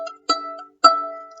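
Violin E string bowed twice in quick succession, each stroke a bright sustained tone with strong harmonics, the second note ringing longer, alone and close.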